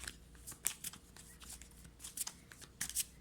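Tarot cards are shuffled and drawn close up, soft repeated riffling and flicking bursts in quick irregular succession, quiet and without talk.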